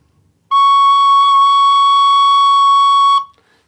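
A tin whistle sounds an open-fingered C sharp, the highest note before the octave D: one steady, clear, pure tone held for nearly three seconds, loud and close, with no talking.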